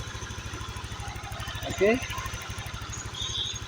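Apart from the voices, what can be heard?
Honda Vario 125 motorcycle engine starting and idling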